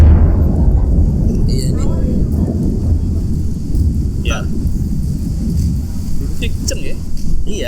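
Heavy rain and rolling thunder rumble loudly and steadily through the whole stretch, with short exchanges of speech from people indoors over the downpour.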